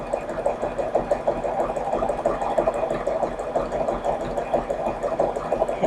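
A sewing machine runs steadily while sewing a zigzag reinforcement stitch, a close, even rapid needle clatter with a faint motor hum and no pauses.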